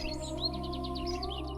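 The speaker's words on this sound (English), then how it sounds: "The birds are singing." Birds in a garden sing a quick series of bright chirps and trills over a low steady hum, moderately faint and heard alone.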